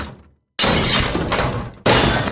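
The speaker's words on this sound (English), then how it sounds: "You just smashed our door in." A door being smashed in: a loud crashing, shattering burst after a brief silence, trailing into clattering debris, then a second sharp crash.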